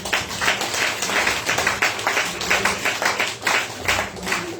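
Church congregation applauding, steady rhythmic clapping throughout, fairly loud and close with no clear talk over it.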